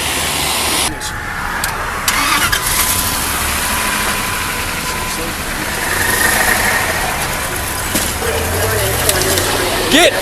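A truck engine revs and drones steadily as the driver speeds away from police with a deputy clinging to the vehicle, loud and close with wind-like roar, broken by brief bumps and shouting voices.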